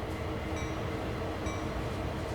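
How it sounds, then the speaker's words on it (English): A long US freight train in Train Sim World rolls past with a dense, continuous rumble and clatter of wagons, loud and steady for the whole stretch with no pauses. "That's a long old freight train, that one."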